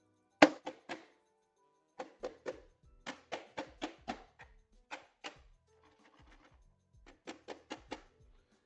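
Repeated dull thunks from a Super Nintendo console being banged on by hand, coming in irregular bursts of two to five hits with short pauses between, close and fairly loud with no talking.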